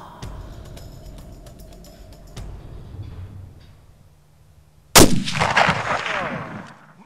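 Loud, sharp rifle gunshot fired at a mule deer or elk about 260 yards away on a Montana hunt, a single crack with a ringing tail, following quieter rustling and low background noise.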